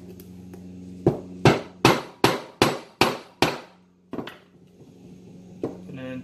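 A screwdriver is tapped against a sealed wheelchair caster bearing seal to pop it out, giving seven sharp metallic taps in a quick, even rhythm, followed by a couple of softer knocks.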